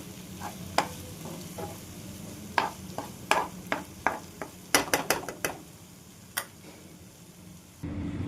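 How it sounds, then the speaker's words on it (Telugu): Masala paste fries in oil in a pot while a spoon stirs it, giving a soft sizzle under sharp, irregular scrapes and clinks of metal against the pan, close and with no talking. "మనం ఈ పేస్ట్ పచ్చివాసన పోయేంత వరకు వేయించుకుందామండి"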